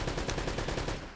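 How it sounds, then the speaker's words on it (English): Rapid automatic gunfire from Uncharted: Drake's Fortune rattles in a dense, loud burst of evenly spaced shots, tapering off at the end with no talk over it. "So instead, I just shot him."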